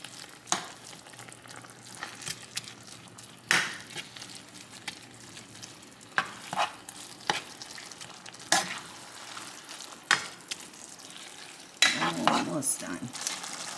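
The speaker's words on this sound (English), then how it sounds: "I'm gonna mix it all around so all those flavors can get in there" Browned meat for llapingacho being stirred in a pan, soft sizzling under repeated scraping and clinking strokes of a utensil at an irregular pace, close by.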